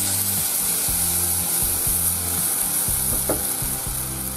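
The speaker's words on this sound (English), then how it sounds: "add the prawn heads, fry them for a few minutes" Prawn heads fry in a pan for a bistro-style veal and prawn Marengo, giving a loud, steady sizzle throughout with repeated scraping and stirring strokes, and no talking.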